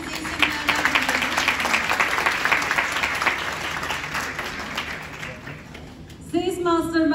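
Sustained applause from a seminar audience for a sales speaker, a steady dense clatter of many hands filling the room, fading slightly before a voice starts talking over the end.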